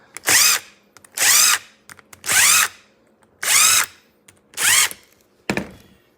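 A power drill opens stud holes in a winter tire, running in five separate loud bursts of about half a second each with short pauses between, followed by a brief final tap.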